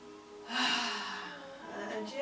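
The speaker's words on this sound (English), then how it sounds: "And again, a big breath in." A big, deep inhale during a relaxing men's yoga session, a breathy rush rising and tapering over more than a second, close and clear with no talking.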